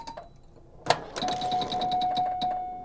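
Solid-state pinball machine sounding a sharp impact followed by a quick run of bright chimes and a sustained electronic tone, rattling on at close range.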